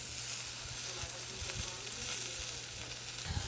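Pork tenderloin sears in a hot pan with a steady, close sizzle and scattered soft pops and crackles, continuous throughout with no voices.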